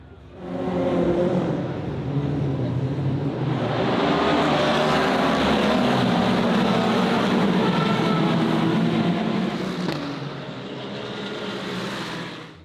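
Race cars roar off the line at the start of the Le Mans 24 Hours, a dense, sustained engine din swelling and holding loud for several seconds before easing slightly near the end, with no talk.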